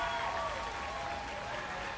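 Home crowd at a San Antonio Missions versus Corpus Christi Hooks minor league baseball game applauds steadily, a dense, even wash of clapping and cheering that holds for the whole stretch without a break.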